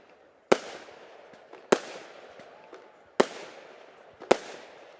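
Four loud, sharp firework bangs burst at a football match, each followed by a crackling decay, spaced about a second apart with quiet gaps between.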